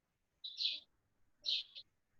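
Two short, bright chirps from a small bird about a second apart, fairly faint and slightly distant, heard alone during a pause in an online history class.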